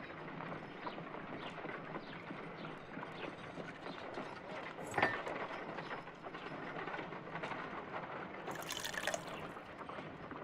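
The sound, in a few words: water poured into an ice knife mold, Sherlock Holmes video game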